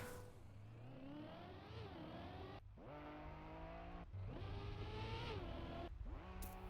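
Rally car engine in a Trackmania racing game, revving steadily with rising and falling pitch through gear changes, with short breaks between shifts, loud and continuous throughout.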